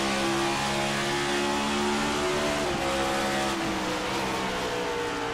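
ICON Cup race cars roar steadily around the St. Louis circuit, engines loud and sustained with shifting tones as several cars run close together, no voices over them.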